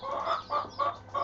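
A champion show hen named Missy clucks close by in a quiet setting, giving four short, evenly spaced clucks in a soft rhythmic run.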